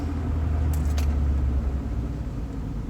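A 2004 Toyota Avalon during a braking test, a steady low road and engine rumble from inside the cabin, with a brief metallic jingle like keys near the start and no voices.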